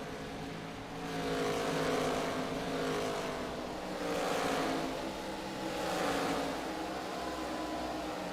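Race car engines droning together at Darlington in the iRacing simulation, a steady layered roar that swells and fades in waves as cars pass, with no talk over it.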